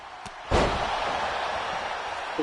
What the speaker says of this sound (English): Bo slams Jamie down.